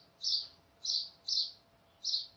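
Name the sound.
bird song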